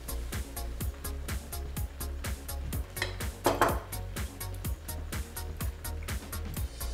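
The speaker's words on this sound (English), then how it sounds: "we'll mix that all together, add in some more salt and pepper" Pasta being stirred with butternut squash sauce in a pan: a quiet, steady rhythm of metal utensil clinks and scrapes against cookware, repeating several times a second with a slightly louder scrape midway.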